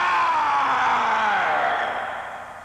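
A loud, sustained scream from Snake in the Metal Gear video game, a single drawn-out cry with a falling pitch that fades toward the end, heard alone.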